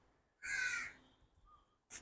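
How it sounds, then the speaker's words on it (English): A crow gives a single harsh caw, then a fainter call follows and a short sharp caw cuts in at the end, all from a moderate distance with no one talking. "the birds are doing their thing"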